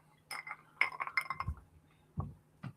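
Glasses clinking together in a toast, several bright clinks in a quick cluster followed by a few separate taps, close but quiet in an otherwise still room.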